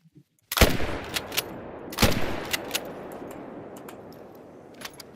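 Two sharp, loud rifle shots crack out about a second and a half apart in theHunter: Call of the Wild on the Emerald Coast. Each shot rings with a long echoing tail and is followed by fainter clicks and knocks.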